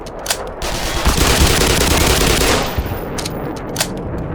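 Several enemies fire at once in the video game Black Mesa, a dense, loud burst of automatic gunfire lasting a couple of seconds, then scattered single shots and short bursts trailing off.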